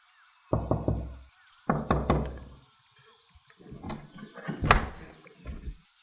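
A door is tried and rattled in a quiet room, with two bursts of knocking, jiggling thumps early on, then a longer stretch of irregular rattling and clunks, close and fairly loud.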